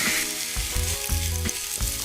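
Steak, rump or sirloin cut two to three centimetres thick, searing on a hot griddle, giving a close continuous sizzle with soft bumps and pops, no voices.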